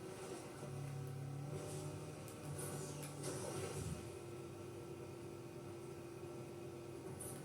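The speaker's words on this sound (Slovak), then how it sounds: "Zoberieme Snoop Doggové auto," Snoop Dogg's car in Fortnite idles with a steady engine hum and a brief rev surge near the middle, a moderately loud continuous drone with no talk.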